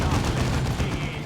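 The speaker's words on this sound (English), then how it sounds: "Maintain fire. Keep shooting." Rapid gunfire from Warhammer 40,000: Dawn of War II fills the moment as a dense, continuous rattle of shots without pause, loud and unbroken.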